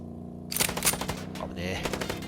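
Rapid bursts of video game gunfire from Chicken Police rattle out close and loud after a brief quiet start, a dense machine-gun stutter continuing to the end.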